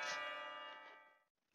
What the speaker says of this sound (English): But the bell rings and cut me off.